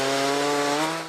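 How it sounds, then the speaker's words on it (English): Chainsaw cutting up storm-damaged trees outside a Baptist church, a steady loud buzzing drone that holds evenly for the whole stretch and eases slightly at the end, with no voices. "Chainsaws were needed to cut up damaged trees in front of the Greater Canaan Missionary Baptist Church"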